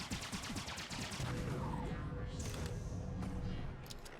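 Black Hole Gun fired in a video game: a rapid burst of repeated shots in quick succession, followed by a swelling crash and smashing impacts with scattered sharp bangs toward the end, fairly faint overall.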